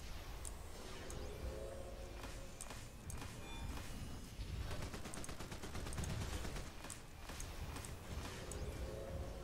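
Light Blast and Minigun firing in the DCUO video game, a hard light DPS loadout. Dense, continuous rapid-fire crackle and bursts of shots fill the whole stretch, fairly quiet, with no talk.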